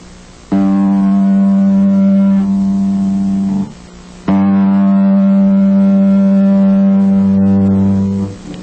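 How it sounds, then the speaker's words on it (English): A bass guitar sounds the top G string as a long tuning tone, played twice as loud, steady sustained notes with a brief gap between them and no other sounds. "So I'm going to give you some long tones so you can tune your basses with mine"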